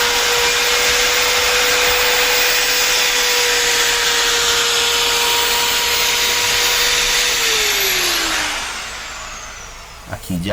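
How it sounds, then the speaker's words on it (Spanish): A wood router trimming the excess laminate edge from a wooden piece, a loud steady high-pitched motor whine that holds for several seconds, then spins down, followed by a few faint knocks. "hemos pasado la ruteadora, ella nos pule todo el canto que tengamos excedente al volumen que tiene la pieza"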